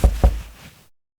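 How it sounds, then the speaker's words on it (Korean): Two quick, firm knocks on the front door of a rented guesthouse, close and hollow, each with a short decay and no voices. "현관문 노크하는 소리가 들리는 거야"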